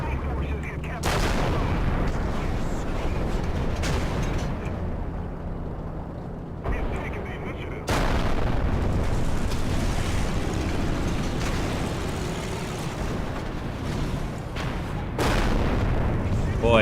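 A 17-pounder tank gun on a Centurion Mk.1 fires in War Thunder. Several heavy, booming shots ring out at intervals over a constant rumble of engine and battle noise.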